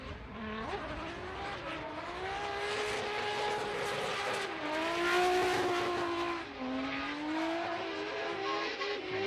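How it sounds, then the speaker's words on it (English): A BMW E92 race car on track at Fuji International Speedway during drift qualifying, its engine note rising and falling as it shifts through gears, fairly close and steady with no talk over it. "Up next, car number 63, Fuga Kimura with Team Trinity Racing and his E92 BMW"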